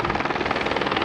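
A helicopter hovers above a cyclist on a gravel race course, its rotor chopping in a fast steady rhythm, loud and sustained.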